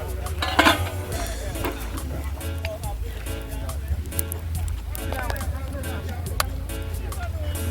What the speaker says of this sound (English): I'm gonna stir fry it a little bit before I put some shrimp in there.